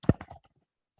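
Keys clatter on a computer keyboard while code is typed, a short quick burst of close, crisp clicks that fades out into silence.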